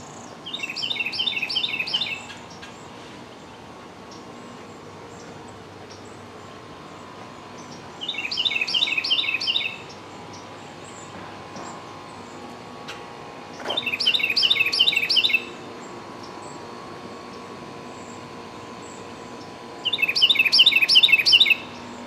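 A bird at Disney's Hilton Head Island Resort repeats a short, bright chirping phrase four times, spaced about six seconds apart, clear over quiet outdoor ambience.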